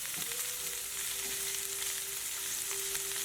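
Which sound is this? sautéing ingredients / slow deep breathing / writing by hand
sautéing ingredients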